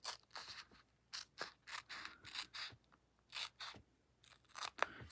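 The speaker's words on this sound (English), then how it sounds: "I can cut the washi tape" Scissors snip through washi tape on cardstock in a quick series of about a dozen crisp, close cuts, some grouped in pairs and some standing alone, with short pauses between them and no voice.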